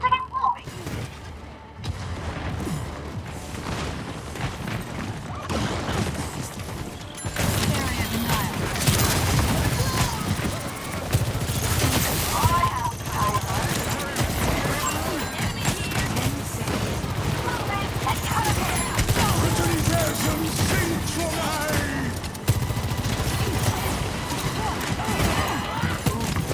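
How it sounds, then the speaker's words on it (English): Junkrat's bombs from the video game Overwatch burst in a rapid, dense barrage of booms and blasts that lasts throughout, loud and chaotic, with a player talking over the explosions. "Just cover that ground in bombs."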